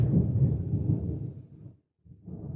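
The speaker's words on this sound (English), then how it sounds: "there was this huge thunderclap" A heavy thunderclap in a thunderstorm rolls as a deep, loud rumble for nearly two seconds, fades briefly, then swells again, with no voices.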